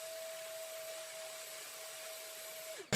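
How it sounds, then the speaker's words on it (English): A small vacuum cleaner hums steadily while sucking dust out of a Commodore Amiga A600 keyboard, its motor tone constant and fairly quiet before cutting off abruptly with a brief clunk at the end. "but I'm going to just hoover that down."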